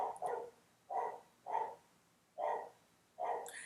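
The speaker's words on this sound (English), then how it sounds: "I have a dog. His name is Doche, and he looks like this." A Pembroke Welsh Corgi named Doche barks five times in an evenly spaced series, each a sharp, mid-pitched bark with a brief double yip at the start, moderately close indoors.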